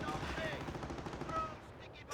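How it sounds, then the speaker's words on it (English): Bursts of rifle squad gunfire in the Company of Heroes video game, a rapid crackle of overlapping shots from a suppressing-fire exchange. The shots taper off toward the end. "Will suppressing fire on this rifle squad successfully keep it alive?"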